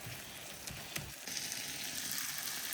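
Onion and spices for a rohu fish curry frying in a pan, a steady soft sizzle with a few clicks and scrapes of stirring early on, the crackle growing slightly brighter midway.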